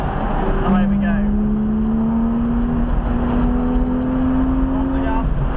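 A car accelerating on track at Brands Hatch during a track day, its engine note rising steadily as it pulls through fourth gear, loud and close from inside the cabin under continuous road and wind noise.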